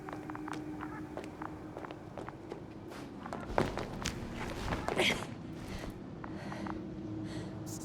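Footsteps walking through the video game The Invincible, a steady series of soft steps over a low ambient drone, with a few brighter clicks and a slightly louder scuff midway; no talk.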